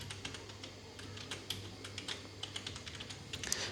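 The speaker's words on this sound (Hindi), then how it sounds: "चलिए यहाँ पर हम कंपनी का नेम टाइप कर लेते हैं" A company name is typed on a computer keyboard in quick, irregular keystrokes, soft and close, over a faint steady hum.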